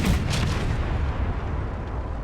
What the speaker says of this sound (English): Got some mortars firing at us